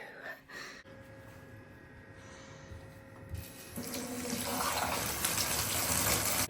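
A shower runs, broadband hiss of water that swells and grows denser partway through, loud and close after some faint rustling at the start.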